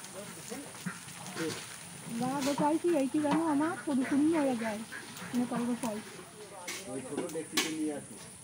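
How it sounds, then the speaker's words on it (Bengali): Oil sizzles steadily while food fries over a cooking fire at a village wedding, a continuous hiss beneath people talking nearby. "ওখানেও ভাজি হচ্ছে"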